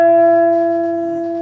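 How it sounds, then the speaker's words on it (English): Sustained electric guitar note fretted at the 7th fret of the G string and pushed up a whole step, ringing clearly and alone before slowly fading. "let's say I'm bending a note on the 7th fret of the G string"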